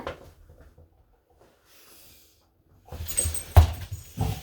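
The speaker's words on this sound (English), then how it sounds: "Sorry, my dog wanted me to throw the ball." A pet dog whines indoors, pleading for its ball to be thrown. After a quiet stretch, a few short, close whimpers and soft yelps come near the end.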